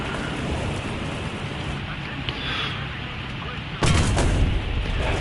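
A tank detonating in War Thunder: a sudden loud explosive boom bursts in near the end over a steady noisy battle rumble, with a voice talking underneath.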